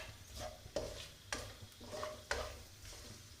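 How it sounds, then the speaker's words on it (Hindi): Whole spices roast in melted ghee in a pan for chicken pulao, soft sizzling broken by four rhythmic scraping stirs of a spoon, close and fairly quiet. "अब इसमें ये खड़े मसाले जाएंगे थोड़े से, इनको हम रोस्ट करेंगे।"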